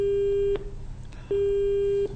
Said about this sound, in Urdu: شاید آپ کا کال ڈراپ ہو گیا ہے